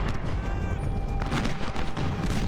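Musket volleys and artillery fire in the Ultimate General Civil War battle game, a dense continuous rattle of gunfire with booming cannon shots layered over a steady roar of battle.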